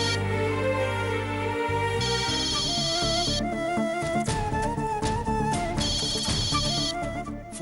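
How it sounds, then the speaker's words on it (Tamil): A phone rings with a melodic electronic ringtone, its bright tune repeating in bursts over background music on a Tamil TV serial. "போன் அட்டன் பண்ணி பேசு பிருந்தா"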